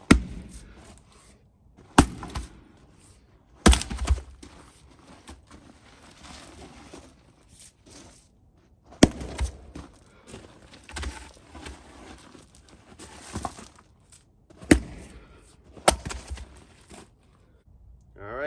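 A Fiskars Isocore maul strikes a 17-inch wood round in several sharp, loud thuds and cracks spaced a few seconds apart, with quieter shuffling and handling in between.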